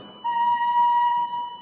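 A recorder sounds a single sustained B note, a clean steady pure tone with faint overtones held for over a second, played alone at moderate loudness.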